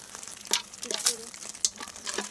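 A spoon scrapes and stirs food being poured into a pan with oil that is not yet hot, giving intermittent crinkling clinks and rustles with faint talk underneath.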